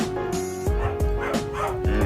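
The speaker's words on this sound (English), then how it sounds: "Your dog is barking." Dog barks from the 1978 film Halloween, several sharp barks or yips at a steady rhythm, fairly close and loud, with a tonal hum running underneath.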